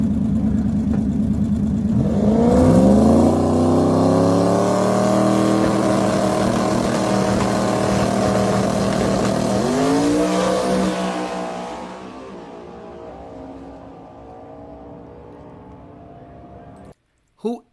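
A drag race car fitted with a 6R80 transmission makes a run on a drag strip: a loud engine roar climbs through rising revs, with a second surge as it shifts, then fades into the distance as the car pulls away.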